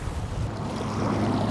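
Ocean waves slapping against a Hobie Outback fishing kayak at sea, a close, steady wash of water and wind rush with low churning, no voices.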